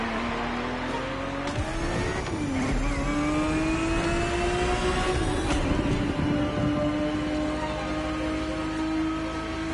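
In The Crew Motorfest racing game, a Ferrari 365 GTB4 engine revs hard and climbs through the gears. Each upshift brings a brief dip in pitch before the loud, steady roar builds again, with no voices.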